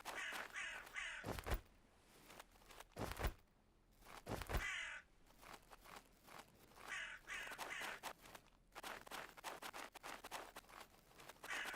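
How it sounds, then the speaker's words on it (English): Crows caw repeatedly in a Nested Lands game world, a medieval plague-ravaged setting, with harsh calls coming in irregular bursts and clusters over a quiet ambient background. "Birds flying around"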